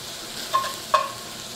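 Bacon frying in a pan as its fat renders, a soft steady sizzle with two brief louder crackles, no talking.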